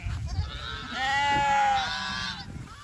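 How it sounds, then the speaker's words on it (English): Lambs bleat loudly and close by while searching for their mothers among sheep and cattle on a grass-fed farm, one long wavering cry rising over a background of scattered animal calls. "It'll be mass chaos here for a while till all the lambs find Mama."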